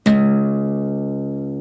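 A single low guitar string, tuned down to C sharp, is plucked once and rings out clearly with a sustained tone slowly fading, played alone.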